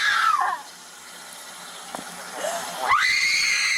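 A woman screams at high pitch, first with a falling wail, then, after a lull with faint background noise, with a sharp rising shriek that stays loud and sustained.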